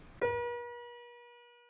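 A single sustained flute note pitched a quarter tone above B flat, starting after a brief breathy onset and ringing clear and steady as it slowly fades, with no voices.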